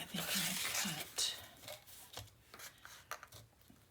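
Scissors snipping paper for a handmade winter mini album, a few crisp close cuts and rustling at the start, then softer handling noises, with a voice speaking quietly.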